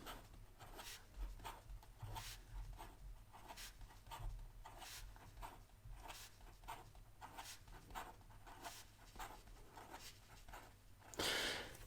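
A Venvstas Carbon T pen writes fast across paper, giving quick rhythmic scratchy strokes in a steady pattern, faint and close, ending in a slightly louder rustle.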